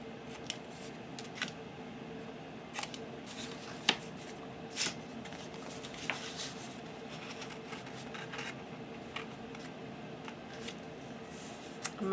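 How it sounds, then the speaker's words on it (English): Scissors snip the corners of fabric for a handmade fabric album, giving a steady run of sharp, crisp cuts close to the microphone with short pauses between them. "Oh, got to cut my corners."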